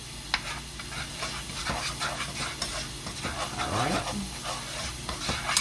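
Garlic sautéing in butter in a pan, a steady soft sizzle with stirring scrapes close by, as a cook speaks a single brief word.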